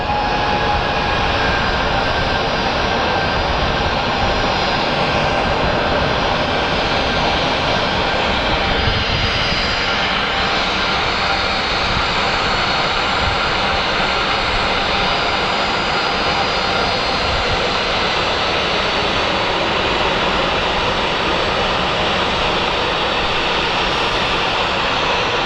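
A jet airliner roars on departure from Phoenix Sky Harbor International Airport, a loud, sustained, broadband engine rumble holding steady for over twenty seconds.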